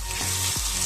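Onions, chilli, potatoes and tomatoes sizzle steadily in a hot pan, a loud, close, continuous frying hiss broken by faint stirring knocks, for a quick breakfast made from leftover rotis.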